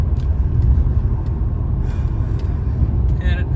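A BMW E46 330ci on a shakedown drive after control arm bushing replacement, heard from inside as a steady loud engine and road rumble, with a person talking over it.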